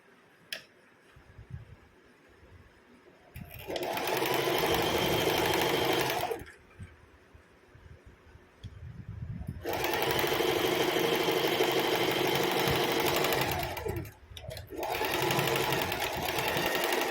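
A sewing machine stitches a kurti shoulder seam in two long, steady runs of fast rhythmic whirring, separated by a short pause with handling sounds, heard close and loud.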